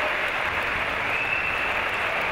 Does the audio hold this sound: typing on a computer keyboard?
no